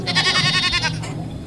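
A sheep named Dadang gives one loud, close bleat, a wavering nasal cry lasting about a second that then fades.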